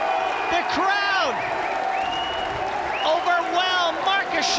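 A crowd applauding and cheering at a Mosconi Cup pool match, a loud continuous roar that swells in places, with a commentator's voice heard over it.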